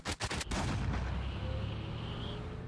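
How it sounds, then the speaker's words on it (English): A single gunshot rings out with a sharp onset and then a long, heavy reverberant rumble that sustains and slowly decays, set in the Moon Knight episode's car chase with overturned logging trucks. "you hear the gunshot, as if the gunshot is what woke Steven up"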